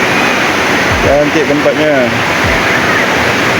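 Steady rushing water at a river picnic spot in Kalumpang, a broad continuous wash like a small waterfall or rapids, close and loud, with people talking over it.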